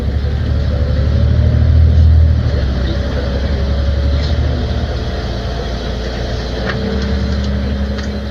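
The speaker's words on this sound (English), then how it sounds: "The bus takes a left turn and passes Svandammsplan on the left-hand side." City bus 161 drives on and turns left past a square in Stockholm, giving a low, steady engine rumble with road noise that swells briefly and then settles, heard from inside or close by.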